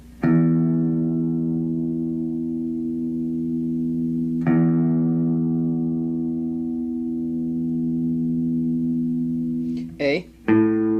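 Low E string on an electric guitar plucked twice for tuning, each note ringing long and sustained with a steady harmonic tone, followed by a brief higher pluck or squeak at the end.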